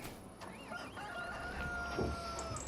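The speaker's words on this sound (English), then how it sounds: "So chickens are here." Chickens on a Farming Simulator 25 farm clucking and chattering in fits, with a few rising squawks, fairly close and moderately quiet over a low background hum.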